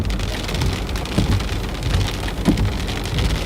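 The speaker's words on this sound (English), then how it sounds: "East of Manhattan, we got strong winds now, over 80 miles per hour coming in." Heavy rain pounds down steadily during a violent thunderstorm east of Manhattan, Kansas, with winds over 80 mph roaring in and a couple of low rumbling gusts or thunder bursts.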